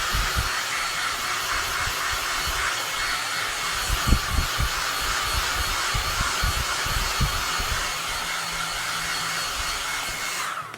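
A handheld heat dryer drying craft paint on a farmhouse Christmas project blows a steady, loud rushing hiss for about ten seconds, with a few soft knocks and handling bumps midway and no talking.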